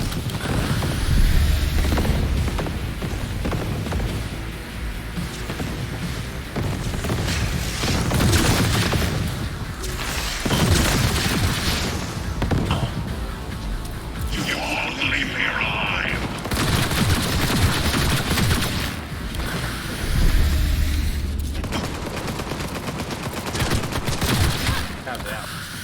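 Sustained gunfire from the player's gun in the video game Cyberpunk, dense bursts and booms running the whole stretch with a game soundtrack and effects layered underneath.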